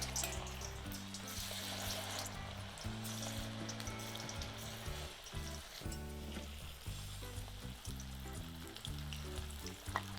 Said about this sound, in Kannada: ಈಗ ಮಸಾಲೆ ಹಚ್ಚಿ ಇಟ್ಟಿದ್ನಿರಲ್ಲ ಸೋಯಾಬೀನ, ಅವೀಗ ಒಂದೊಂದು ಈಗ ಎಣ್ಣೆಯಾಗ ಬಿಟ್ಟು ಕರಿಯೋಣ.